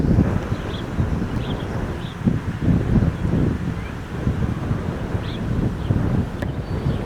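Steady outdoor wind buffets the microphone during plein air painting of a house, a continuous low rumble lasting throughout with gusty swells, heard alone without talk.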